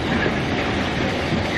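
An old train rolls along the rails with a dense, continuous rumble and rattle of wagons. The sound is loud and close and steady throughout, with no voices.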